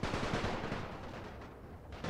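Gunfire rattles in a Great War 6.0 battle as troops fire back, dense overlapping rifle and machine-gun volleys crackling steadily as a distant-sounding, fairly quiet barrage, no voices over it.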